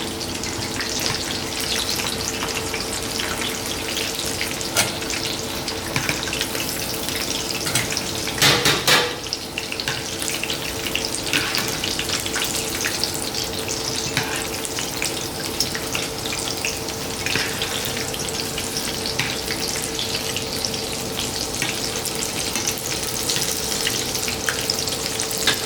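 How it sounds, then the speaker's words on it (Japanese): Sweet potatoes deep-frying in hot oil, a dense continuous sizzle and crackle with a brief clatter partway through, steady and close throughout. "さつまいもはねいい色になってきたので揚げておきましょう"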